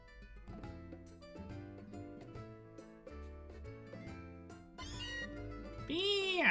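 Meowth's cry in the video game Pokemon Moon, a rising cat-like meow near the end, loud and bright over the game's melodic background music.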